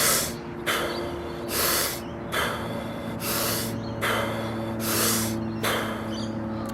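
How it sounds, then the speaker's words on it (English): Wim Hof method deep breathing, a steady series of about six forceful breaths, each a sharp hissing inhale followed by a relaxed exhale, close and loud with a regular rhythm and no talking. "So I'll demonstrate just a couple breaths what it looks like."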